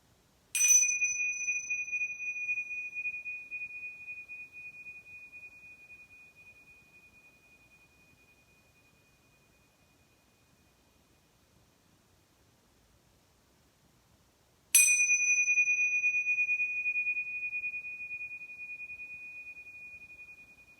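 Two meditation bell strikes about fourteen seconds apart, each a clear pure ringing tone that sustains and slowly fades toward silence, heard alone in a quiet space.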